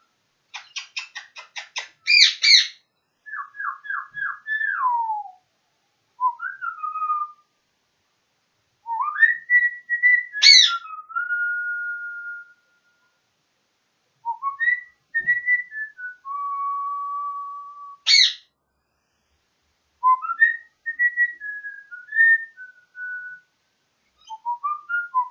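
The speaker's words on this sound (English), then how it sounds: "I saw that, you mean little bird. You mean green little" A small green pet bird whistles and chirps close by: clear, rising and falling whistled phrases and quick chirp bursts, separated by short silent pauses, with nothing else heard.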